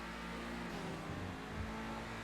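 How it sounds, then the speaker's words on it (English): Growly engine of the Obey Tailgater S, a sporty sedan modeled on the Audi RS3 in the video game GTA, runs steadily and close for a couple of seconds with a low, rumbling tone and slight swells in revs. "The engine noise is good. It's kind of a good growly kind of noise."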